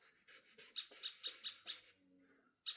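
A bird calls late at night in a run of five or six quick, shrill squawks, fairly close, with a short pause and then one more loud burst.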